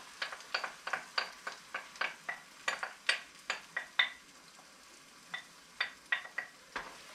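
Eggs fry in a pan with cooked sausage, a soft sizzle under a steady rhythm of close scraping and clinking strokes from a utensil, with a brief pause before the strokes resume.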